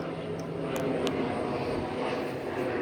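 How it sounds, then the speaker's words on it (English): A propeller airplane drones overhead, a steady broadband engine rumble holding at constant loudness throughout, outdoors with no one talking. "Now that that plane is gone."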